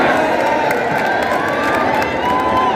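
A large crowd at a Mayawati election rally in Mainpuri, a steady, loud wash of cheering and shouting voices, dense and unbroken throughout.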